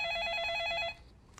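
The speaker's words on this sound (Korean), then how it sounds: "그 사이에 걸려온 전화 받아보겠습니다" An incoming call rings on a live stock-advice broadcast: a loud, bright electronic phone trill holds for about a second and stops sharply, leaving only faint room noise and a small click.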